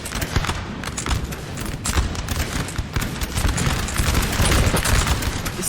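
Massed musket flanking volleys in Napoleon Total War, crackling fusillades of many shots blending into continuous, loud battle noise with repeated bursts across the stretch.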